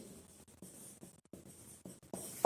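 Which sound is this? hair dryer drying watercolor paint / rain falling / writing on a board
writing on a board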